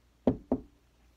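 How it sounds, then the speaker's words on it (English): Two quick, firm knocks on a door, close and distinct, about a quarter second apart, followed by quiet, with no talk. "There was a knock at the door."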